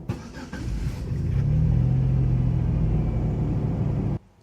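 A Pontiac that is hard to start and runs rough cranks and catches, then settles into a steady, loud idle rumble that holds for a few seconds before cutting off abruptly.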